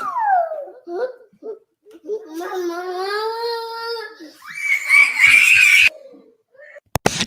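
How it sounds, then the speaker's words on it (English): A little boy screams and cries loudly, wailing in drawn-out rising bursts with sobbing in between, close to the microphone, and other voices are heard at times. "Now, her little boy, that's who you hear screaming."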